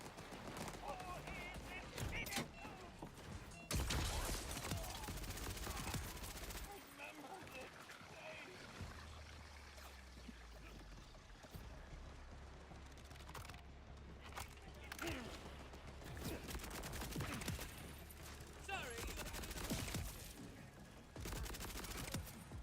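Assault rifle fire in the video game Borderlands 4, bursts of rapid gunshots and explosive blasts in a busy battle mix, with talking over parts of it.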